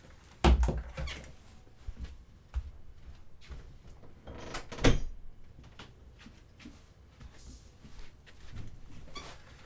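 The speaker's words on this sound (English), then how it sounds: "I gotta just close the door" An interior door shuts with a solid thud, followed by a second knock a few seconds later, amid faint room noise and small handling sounds.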